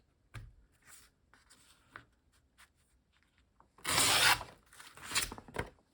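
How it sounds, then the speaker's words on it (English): Hand-tearing of gelli-printed paper for a leaf-print collage: faint scattered rustles and small rips, then a loud, sharp tear burst in the final seconds followed by a couple of shorter ripping strokes, close and alone. "tear this one here"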